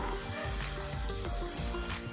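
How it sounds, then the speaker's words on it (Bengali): Eggs frying in a hot pan, a steady close sizzle with crackling spatter running throughout, no talking. "বাকি দুটো আমি এইভাবে ফ্রাই করে নেব"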